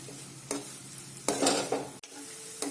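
Onions being sautéed for a green corn curry sizzle steadily in a pan, with a few spoon scrapes and stirs breaking in close by and no talking.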